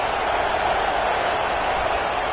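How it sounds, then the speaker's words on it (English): Steady roar of a stadium crowd at a USC vs Oregon college football game, a dense continuous wash of cheering and applause with no distinct voices standing out. "this crowd coming to life here, trying to help the defense get a stop"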